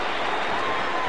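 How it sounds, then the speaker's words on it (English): Stadium crowd of Carolina Panthers fans cheering at an NFL football game against the Atlanta Falcons in 1995, a dense, steady roar of distant voices with applause under it. "The cheering you hear are the crowd who came down from Carolina."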